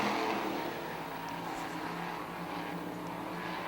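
A pack of limited late model race cars roars through a turn on an oval track, a steady blended engine drone at moderate distance.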